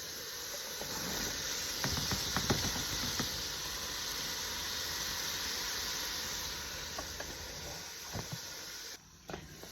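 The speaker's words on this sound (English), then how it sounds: "And here I am browning some hamburger, about a pound." About a pound of hamburger browns in a pot with a steady, soft sizzle and hiss, broken by a few faint utensil clicks and scrapes.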